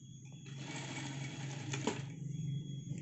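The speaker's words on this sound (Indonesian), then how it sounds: "Lalu kita jahit" An electric sewing machine stitches a shirt with a fast, steady mechanical whir and needle chatter that starts up and runs continuously at close range.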